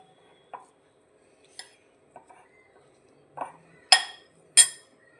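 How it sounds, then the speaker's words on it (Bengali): A spoon mixes rice flour in a bowl, giving a handful of sparse metallic clinks and scrapes against the bowl that grow louder toward the end. "এটা আমি স্পুনে করেই মিক্স করছি।"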